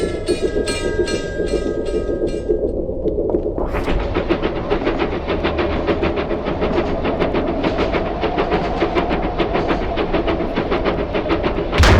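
A locomotive in the railroading game Locomotive rumbles steadily along the tracks, a continuous close roll of wheels with rhythmic clatter, opening with a sustained horn-like tone before the running noise takes over.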